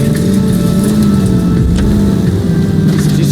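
Car engine revving steadily while driving in L.A. Noire, a continuous mid-pitched motor drone that holds at a constant loud level throughout, with no talking.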